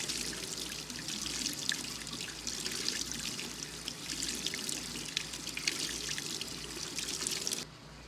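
Water runs steadily from a tap as soap is rinsed out of beauty blender makeup sponges, a continuous close trickle and splash that cuts off abruptly near the end.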